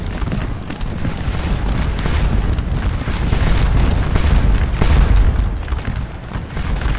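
Musket fire from units aimed at Prussian skirmishers in Scourge of War: Waterloo forms a dense, continuous rumble of booming shots and crackle, loud and sustained for several seconds.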